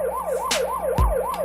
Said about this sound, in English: Just lower this siren.